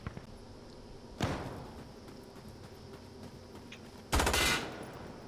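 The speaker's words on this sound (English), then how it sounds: "I shot a lamp because I freaked out" Two sharp gunshot bursts in the shooter game Insurgency Sandstorm, the first at about a second in and a louder, longer one near the end, over a quiet room-tone background.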